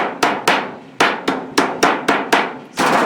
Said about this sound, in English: Give it a little hammer back the other way.